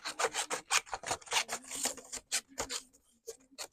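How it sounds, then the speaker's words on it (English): Scissors or a trimmer cutting down a piece of card paper while making a wild flowers card, giving a rapid series of close, crisp rasping snips that stop briefly near the end. "I'm just going to trim this down a bit"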